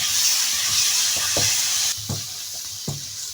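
Mutton liver frying in hot oil, a steady loud sizzle with a few soft stirring scrapes and clinks from a spatula; the sizzle drops in intensity halfway through.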